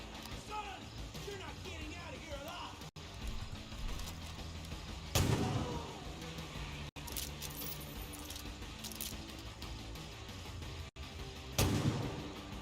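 Rifle shots ring out in the video game Far Cry 5, a few loud sharp cracks spaced several seconds apart with metallic clinks between them, while a voice talks over the gameplay.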